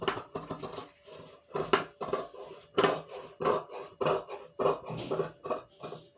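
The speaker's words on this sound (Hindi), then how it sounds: "अब हम अपने बैक पार्ट की कटिंग करते हैं।" Scissors snip through blouse fabric while cutting the back piece, a series of close, irregular crunchy cuts with short pauses between them, no talking.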